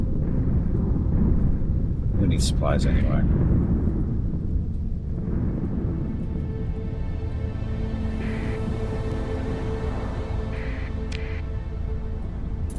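Storm thunder in the space game Starsector, a deep rumbling roar building early and then fading into a long low rolling tail, with someone speaking briefly over it.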